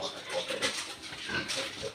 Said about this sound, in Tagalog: ganito yung mga baboy natin, yung mga biik natin kapag sila ay nagdedede